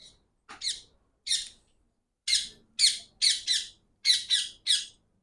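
A bird lets out a series of sharp, high squawks, about ten short harsh bursts in irregular groups, loud and close, with no talking.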